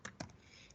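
A single firm keypress on a computer keyboard, with a few light clicks just before and a quiet room tone after, close and brief with no voices.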